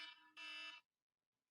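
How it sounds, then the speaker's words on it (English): Sheet mask timer alarm going off: a loud electronic beeping tone in two bursts, about 0.8 seconds in total, then near silence with a faint blip at the end. "it's my sheet mask alarm"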